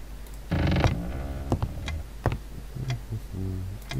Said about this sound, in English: just more creaky floor.